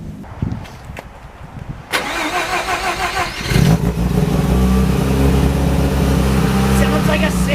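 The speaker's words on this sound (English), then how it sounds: "Sounds like a Civic." A car engine, likened to a Honda Civic, cranks and catches at a drift event, then settles into a steady mid-pitched idle with light revving. It starts after some quiet background handling noises and stays loud and close.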